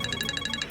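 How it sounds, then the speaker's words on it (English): A burner phone rings in a rapid electronic trill, a tight run of about eight evenly spaced bright pulses, loud and close, with no voices over it. "We've got a call on the burner phone."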